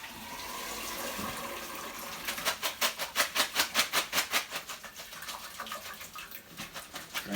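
Hot pasta water pours from a pot into a kitchen sink as a rushing stream. It turns into a rapid series of rhythmic gulping splashes, then fades to an uneven trickle, close up with no talking.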